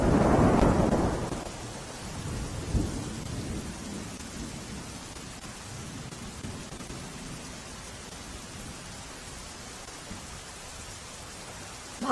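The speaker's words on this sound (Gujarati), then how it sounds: "ભાવનગરના વલ્લભીપુરમાં ભારે વરસાદ વરસ્યો છે।" Heavy rain falls steadily in Vallabhipur, Bhavnagar, opening with a loud rumble of thunder that fades into a continuous, even hiss of downpour with no voices.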